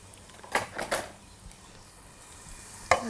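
Garlic frying in a pan for pilaf, with a few short scraping stirs and a soft sizzle underneath, then a sharp clack near the end.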